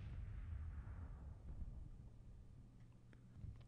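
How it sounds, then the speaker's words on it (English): Civil War-era artillery in a strategy game fires as a series of low, muffled booms. They rumble at a distance, with a few faint pops near the end and no talking. "Pretty ineffective fire from the artillery, but it's to be expected."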